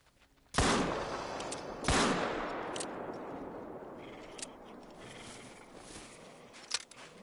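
Two loud pistol shots in theHunter: Call of the Wild, a sharp blast then a second about a second later, each trailing into a long echoing decay, with a faint click near the end.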